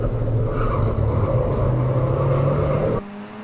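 Honda VTEC Challenge race car engine at Snetterton heard from onboard, a loud steady high-revving drone that suddenly drops away near the end.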